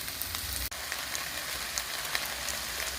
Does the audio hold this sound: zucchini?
yes